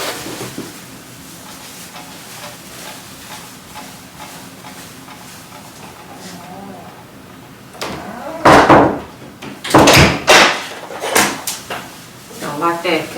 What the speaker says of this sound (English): it sounded like somebody was trying to knock on my door